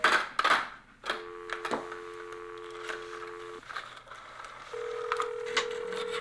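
A telephone being dialed, with a string of brief push-button tones and dial clicks followed by a steady held tone; no one speaks, and a faint background hum runs throughout.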